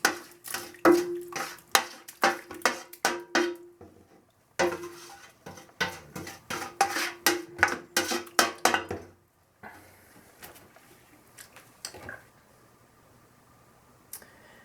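Mash being stirred for a homebrewed single-decoction Helles, with repeated scraping, knocking and clattering strokes against the pot for about nine seconds, then quieter sporadic handling noises.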